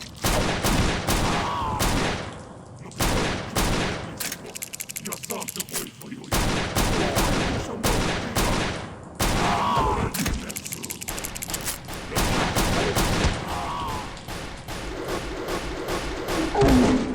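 Enemy gunfire in the video game CountryCide comes in loud, repeated bursts and volleys, with sharp shots and thuds separated by brief pauses, continuing throughout with no talking.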